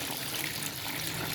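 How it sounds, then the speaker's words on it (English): Dirty grey water poured out of an ultrasonic clothes cleaner: a steady, full splashing pour that runs continuously and fairly loud throughout, with no talking. "Let's try and pour it, and you can see how filthy it is when I pour it."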